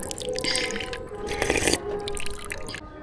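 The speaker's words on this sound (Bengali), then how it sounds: "বোতল আনেনি, হাত দিয়ে জল খাচ্ছে" Water running and dripping near by as someone drinks from cupped hands, a steady wet splashing with brief louder bursts, no talk.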